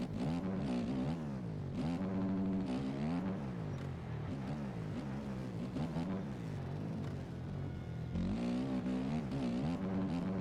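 Simulated dirt bike engine from MX Bikes churning through rutted motocross track, a continuous loud motor rising and falling in pitch with throttle blips and gear changes across the whole stretch, no talking.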